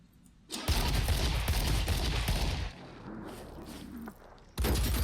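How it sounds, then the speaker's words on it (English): Gun mounted on a buggy in Phoenix Point firing a dense, booming burst of rapid shots, loud and close, with a short dip in the middle before a final heavy volley. "Let's shoot and see what this gun has in it."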